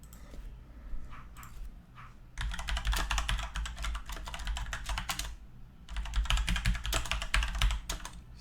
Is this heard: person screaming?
no